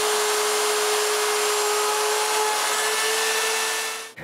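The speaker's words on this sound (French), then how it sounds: "j'utilise ma mortaiseuse" A mortising machine bores an air hole through wood in a workshop, giving a steady, loud whir with a high steady tone that runs unbroken for about four seconds before cutting off abruptly.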